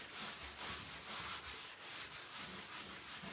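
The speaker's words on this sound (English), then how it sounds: "So all I'm doing is just rubbing the excess Antebellum Blue wash off." A cloth rubbing excess Antebellum Blue wash off a painted cabinet, a continuous soft, breathy scrubbing with gentle strokes, close and quiet, with no talking.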